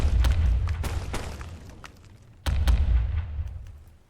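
Cannon shots in pirate ship combat from a turn-based video game. Two heavy booms land a couple of seconds apart, each trailing off in a low rumble, with a few light clicks between them.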